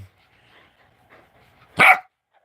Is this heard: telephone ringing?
no